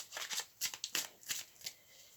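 Tarot cards shuffled close up in a quiet room, a soft flurry of riffling bursts with brief pauses and light slaps as cards are drawn.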